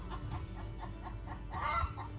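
An annoyed hen clucks in short, steady bursts, fairly faint and a little distant, ending in a louder, higher squawk; no one speaks.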